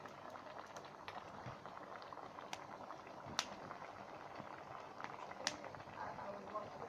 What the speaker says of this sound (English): So this is our pot as it's boiling on the fire.